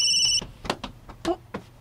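Cellphone ringing with an incoming call, a short electronic ringtone tone near the start followed by scattered soft clicks and handling noises, close and moderately quiet.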